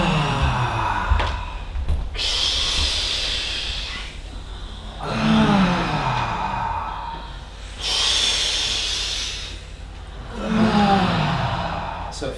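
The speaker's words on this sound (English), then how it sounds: "So we breathe in." Slow, deep breaths during a grounding exercise workout, long audible inhales and exhales repeating about every three seconds, close and airy, with a steady low hum underneath.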